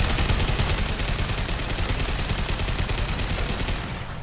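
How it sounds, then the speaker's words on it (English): Dense, continuous automatic gunfire from a Mass Effect battle rages loud and close for several seconds, a rapid unbroken stream of shots that eases slightly at the end. "Firing an impact shot!"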